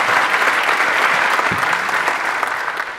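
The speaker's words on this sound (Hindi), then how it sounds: "इस बात पे ताली बनती है" Steady applause from a crowd, loud and continuous for a few seconds, gradually thinning toward the end.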